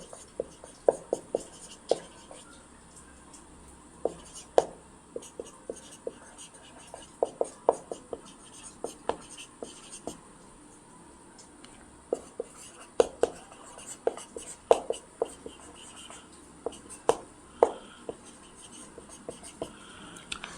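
Someone writes Bengali sandhi examples on a board with sharp, irregular taps and strokes, in bursts separated by pauses, under quiet murmured speech.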